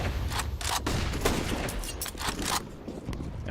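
Wallbang gunfire in a Counter-Strike esports match: dense, rapid bursts of shots punching through walls, a loud, steady barrage lasting several seconds with overlapping cracks and no clear pauses.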